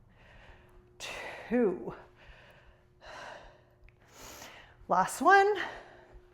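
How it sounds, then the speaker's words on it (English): Heavy gasping breaths after a home dumbbell workout, several sharp inhales and exhales close to a new microphone, mixed in with a person counting aloud. "I apologize for any heavy breathing you might hear"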